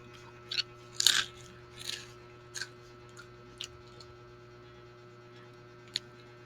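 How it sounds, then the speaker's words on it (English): Dry cereal crunches up close in a few sharp, irregular bites, the loudest around the first two seconds and fainter ones spread after, over a steady low electrical hum with no talking. "Can you hear my crunching?"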